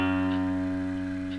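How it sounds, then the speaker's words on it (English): A single low guitar note, picked on the sixth string at the second fret during a twelve-bar lesson, rings steadily at moderate volume with no talking over it. "And then our first finger goes to string 6 at fret 2."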